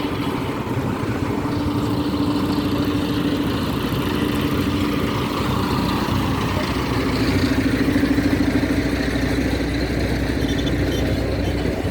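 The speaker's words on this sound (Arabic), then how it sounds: "وادي أتوبيس الدورين السياحي" A double-decker tourist bus engine rumbles steadily along a seaside corniche road, a low continuous drone with traffic noise around it and no talking.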